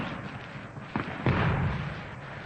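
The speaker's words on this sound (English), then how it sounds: "while the rockets resound in the background" Rockets and fireworks go off at a baseball stadium during a 1948 World Series game, two muffled booms landing a moment apart and then a sustained rumbling roar over a noisy crowd.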